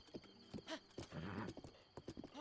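A horse in a Zelda video game trots with rhythmic hoof clip-clops, close and clear, along with a whinny.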